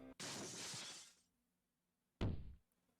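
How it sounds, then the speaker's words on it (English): Cannonball smashing through a window in the Code: Realize video game: a long loud shattering burst of glass, a pause of silence, then a second heavy crash and thud close by. "a loud crash breaks the silence as a cannonball the size of my fist smashes through the window"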